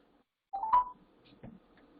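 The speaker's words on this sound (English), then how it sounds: "Well, you can hear me dialing." Telephone dialing tones from a phone on speakerphone, a few short keypad beeps heard close and clear with quiet pauses between them.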